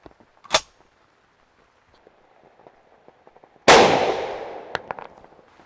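A single loud, sharp rifle shot from an SKS firing a 7.62x39 handload loaded with Reloder 7, ringing out near and decaying over about two seconds, with a faint earlier click and small clinks afterward.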